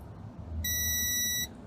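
A multimeter continuity tester checking a fuse gives a single steady, shrill electronic beep lasting under a second, heard close and alone over quiet room noise.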